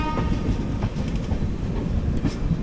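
An Intercity Express with new LHB AC chair cars rolls into Tirupati station, a loud, steady rumble of wheels on track with rhythmic clickety-clack over the joints, heard from inside the coach.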